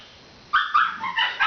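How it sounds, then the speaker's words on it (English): Dogs barking repeatedly in a room, a run of sharp yips and barks that starts after a brief quiet and continues in quick bursts, fairly close and loud. "The dogs."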